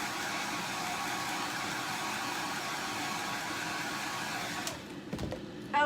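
A hair dryer blasts close by, drying a Chalk Couture chalk craft project with a steady, loud whooshing roar for nearly five seconds, then cuts off, leaving a few light handling clicks.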